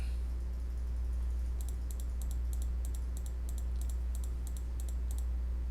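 Rapid bursts of sharp clicks, grouped in small clusters at a steady rhythm, from a threat dial being clicked up by 12 during a three-player Lord of the Rings card game, Shadow and Flame. They sit over a low steady hum, with no talking.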